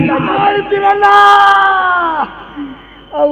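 A folk performer's voice rises into a loud, drawn-out wailing scream imitating Sati's cry, held for about two seconds before trailing off, followed by a brief further vocal outburst.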